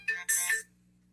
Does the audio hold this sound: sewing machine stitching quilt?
no